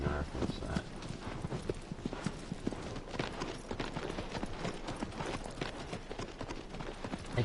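A horse's hooves clip-clop steadily at a brisk pace in Shadow of the Colossus, dense and continuous amid game ambience, with a voice talking over it.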